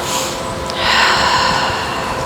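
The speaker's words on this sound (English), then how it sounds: "Breathing into this." Deep breathing during a yoga pose, a slow audible inhale swelling into a louder, breathy exhale, close up and without talk.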